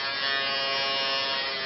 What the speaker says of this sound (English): it's an electric razor. So let's turn it on.